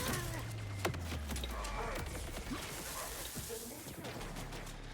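An explosion from a grenade in the Borderlands video game, followed by a rapid string of smaller pops and blasts like scattered gunfire, loud and dense across the whole stretch.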